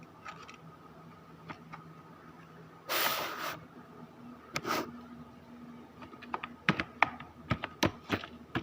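Typing on a computer keyboard, with scattered light clicks that build into a quicker burst of sharper keystrokes near the end, plus a brief hissy rustle partway through and no voices.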